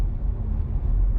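An Audi A5 35 TDI rolls over a rough road under resurfacing with raised ironworks, giving a steady low rumble of tyres and suspension from inside the cabin.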